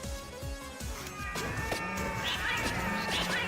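A pet cat meowing alongside cat yowls from a vampire crawler video game, with several drawn-out, wavering cries layered over constant game music and effects.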